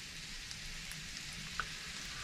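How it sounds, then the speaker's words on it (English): Baby potatoes fry in butter in a pan over raised heat, giving a steady, fairly quiet sizzle with faint crackles and one brief pop, no voices. "Now I'm just going to turn the heat back up a little bit there, so we actually get them frying properly."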